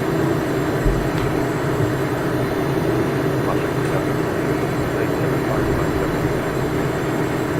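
Steady, unbroken jet roar from a Cessna Citation Mustang held at maximum throttle in a flight simulator, a broad constant drone with no voices over it.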